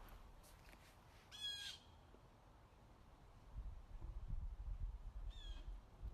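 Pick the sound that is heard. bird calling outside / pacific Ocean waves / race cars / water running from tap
bird calling outside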